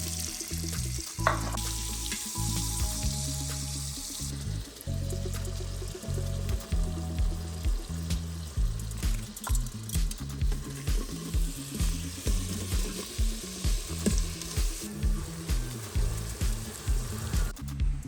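Onions frying in a pot for pressure cooker birria: a steady sizzle under repeated rhythmic scraping and stirring strokes that grow regular and pulsing toward the end, close and fairly loud, with no speech.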